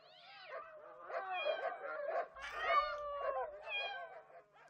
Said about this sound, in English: This doggy's leg was hurt while he was trying to protect me.